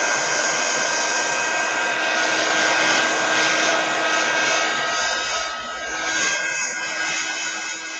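A hair dryer blows steadily on a freshly made painting, a loud, continuous broadband whoosh with a faint whine that holds for the full length and dips slightly near the end.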